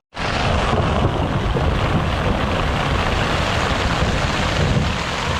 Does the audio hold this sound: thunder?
yes